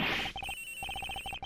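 Telephone ringing in the Ace Attorney Investigations video game, a loud, close electronic ring pulsing in quick repeated bursts with short gaps between groups, heard alone.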